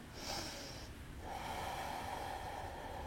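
A slow, audible inhale through the nose during a gentle yoga pose, steady and close, with no talking.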